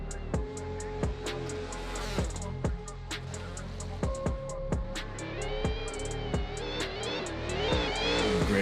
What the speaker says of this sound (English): Gregory Andreev with that Ferrari going out there and just shredding some tires, getting some warm-ups